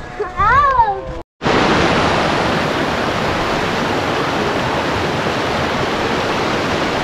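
Neelum River near Sharda rushing below a bridge, a loud, steady broadband roar of fast water that fills the scene after a brief voice at the start.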